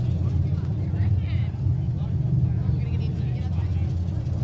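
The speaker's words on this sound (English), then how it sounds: "Brock's just running the car at the moment, just getting it run up" A supercharged drag race car with big induction on top idles in the pits, a steady deep, loping engine rumble that holds for several seconds, with people talking over it.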